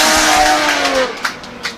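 Drift cars run door to door at 3 Sisters in the British Drift Championship. A loud, close engine whines and revs, its pitch sliding as it passes, then sharp tire noise follows and the sound fades off.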